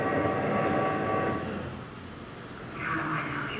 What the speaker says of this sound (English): A train may be an old-fashioned way to travel